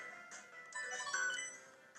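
An X-Transceiver rings in Pokemon Volt White 2, a short melodic electronic chime with bright pulsing tones, faint and alone.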